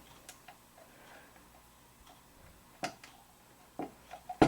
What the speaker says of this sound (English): I kind of feel it ticking off and off.